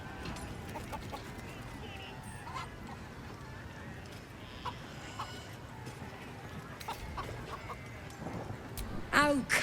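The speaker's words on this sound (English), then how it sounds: "You just gotta chase the chicken through the course to the posts there" Chicken clucking in a video game goblin camp, faint scattered clucks over a busy ambient bed with a voice talking, ending in a louder burst of squawking.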